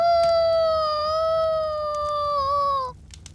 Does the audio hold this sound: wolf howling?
yes